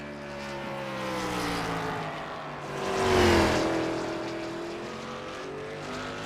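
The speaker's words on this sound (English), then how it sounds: "A whole host of cars out here right now qualifying." Race cars lapping Charlotte during qualifying in a racing video game, with a steady engine drone whose pitch sweeps as cars pass, one louder pass swelling near the middle of the stretch.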